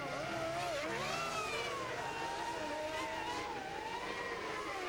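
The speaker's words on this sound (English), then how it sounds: "Mechanics fire up the Mercedes engine" The Mercedes engine of David Coulthard's McLaren Formula One car fires up on the grid, a high whining engine note rising and falling in pitch, steady and moderately loud, over a constant rumble of background noise.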